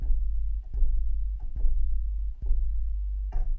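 A typical synthesizer sub-bass tone on the note G hums as a deep, steady low drone, interrupted by several soft clicking ticks at uneven intervals, with no voices.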